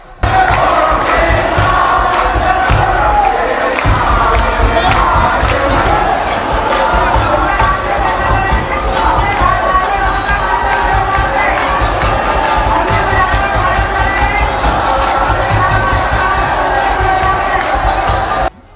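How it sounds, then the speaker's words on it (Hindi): A large Holi crowd in Mathura packed together, cheering and singing rasiya with nagara drums, loud, dense and continuous throughout, with voices shouting over a steady wash of crowd noise. "ढेर सारी भीड़ एक साथ इकट्ठे होके और नगाड़ों के साथ यहाँ पर रसिया गायन करती है"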